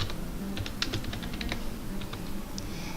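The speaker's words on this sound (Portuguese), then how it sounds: "Digite o seu nome." Typing on a computer keyboard while entering a name into a document, with steady, irregular key clicks at close range over a low background hum and no speech.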